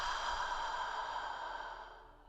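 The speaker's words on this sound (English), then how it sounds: "Exhale loudly out the mouth." A long, loud exhale out through the mouth during a yoga breathing practice, one breathy rush of air that slowly fades over about two seconds.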